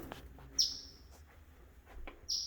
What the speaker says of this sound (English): Maybe that bird will figure out how to get out of here.